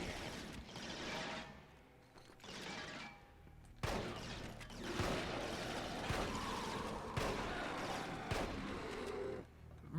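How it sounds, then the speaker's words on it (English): Heavy shotgun blasts from the video game Resistance: Fall of Man, several loud booming shots at irregular intervals over a continuous backdrop of combat noise, with no talking. "That's a good shotgun."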